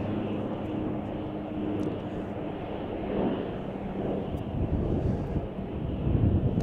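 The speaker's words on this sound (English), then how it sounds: "I think I've got the Lufthansa A340 600" A Lufthansa Airbus A340-600 airliner landing at Chicago O'Hare, heard as a steady distant jet roar mixed with wind buffeting the microphone, swelling slightly toward the end.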